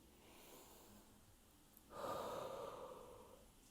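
A single deep breath drawn in slowly and audibly near the microphone, faint and airy, rising about halfway through and trailing off, with no voices.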